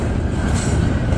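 A Norfolk Southern freight train rolls past close by, a loud continuous rumble of wheels and rail noise with a faint high squeal, no voices.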